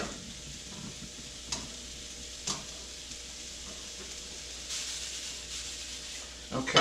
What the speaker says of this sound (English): the best way to cook sausage, once you've broken it down, is to fry it unlidded